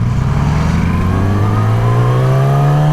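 A motorcycle engine revs loud and close, its pitch climbing smoothly and steadily as the bike accelerates, with no voices.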